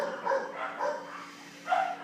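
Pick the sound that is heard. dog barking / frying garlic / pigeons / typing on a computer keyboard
dog barking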